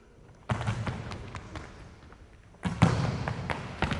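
Thuds from repeated hops in a speed training drill, heavy landings on the ground in two bursts of rapid thumping with a quiet pause between them, close and fairly loud.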